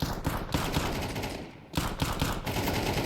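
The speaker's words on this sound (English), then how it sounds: "Couple of bullets spamming through those smokes in the middle of the bomb site" Dense bursts of automatic gunfire from Counter-Strike spray in loud, rapid rattling volleys with a brief lull midway, the shots pouring through smoke on a bomb site during a Heroic versus Vitality match.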